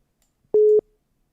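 A WhatsApp call tone sounds from a phone as a single short, steady electronic beep, clear and alone in near silence.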